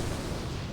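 A Fire Nova totem explosion in World of Warcraft: a brief, dense burst of broadband rumble and crackle, loud and close, lasting under a second.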